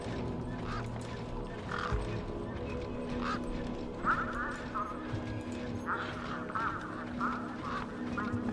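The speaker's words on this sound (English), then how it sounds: "These were tough desert birds." Tough desert birds in the video game Beyond a Steel Sky give repeated honking, quacking squawks, several short calls spread over a steady background ambience at moderate loudness.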